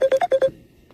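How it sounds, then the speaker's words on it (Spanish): A mobile phone ringing during a conference talk in the United States, with five quick repeated electronic tone bursts in a steady rhythm, clear and close, then fading to quiet room noise. "Sí, está tremendo ese teléfono, es el mío, ¿no? Te están llamando."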